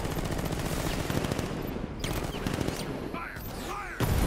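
Dense rapid gunfire in a Batman Arkham Knight battle, sustained overlapping bursts of automatic fire, loud and close, with brief gaps and sharp crackles near the end.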